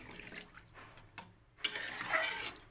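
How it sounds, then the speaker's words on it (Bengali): Water poured into a pot of simmering fish curry with potatoes, a quiet splashing pour that swells in the second half, after a few faint clinks and soft kitchen noises. "এবার আমি এই জলটা অ্যাড করে দেবো।"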